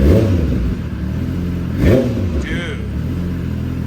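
A new 2023 motorcycle with a catalytic converter delete gives loud, close revs, the throttle blipped in sharp rising and falling sweeps with a rough exhaust crackle, while someone briefly speaks.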